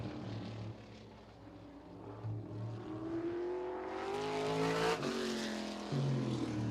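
A race car at Anderson Speedway during Little 500 qualifying, engine droning from a distance and rising in pitch as it passes, with a steady roar under a broad noisy background.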